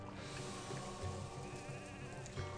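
Sheep bleating in the city-building game Caesar III, a few nasal bleats over a steady textured background hum. The calls sit close and fairly faint, and no voices are heard.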